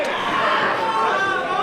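Wrestling event crowd at a Ryse Wrestling show, a steady dense roar of chatter and cheering that fills the whole moment without a break.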